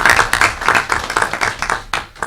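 Applause at a township council meeting welcomes the new township manager, a small crowd clapping loudly and close, in uneven bursts that thin out toward the end.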